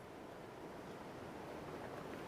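Soft, steady wash of ocean surf on a beach, faint and continuous with no distinct breaks or voices, like distant waves rolling in.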